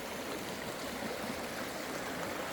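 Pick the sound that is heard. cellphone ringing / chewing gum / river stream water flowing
river stream water flowing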